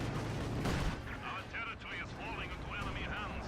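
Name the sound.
Dishka heavy machine gun fire in Company of Heroes 2 video game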